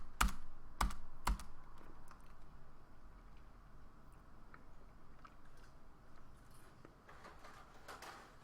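Typing on a computer keyboard, with a few sharp, loud key strikes at the start and then faint, steady clicking under low background noise.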